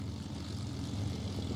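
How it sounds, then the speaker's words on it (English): A P-51 Mustang taxis past at EAA AirVenture 2025, its piston engine giving a steady, rumbling low drone at moderate distance, with no voices over it. "Taxiing in front of you now, the P-51 Mustang."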